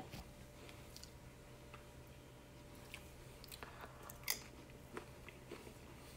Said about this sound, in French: c'est ma dernière bouchée